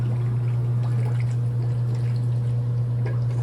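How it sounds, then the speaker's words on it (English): Antifreeze poured into a vehicle's freshly installed radiator, a steady close liquid pour over a constant low mechanical hum. "Mick is filling up the antifreeze now"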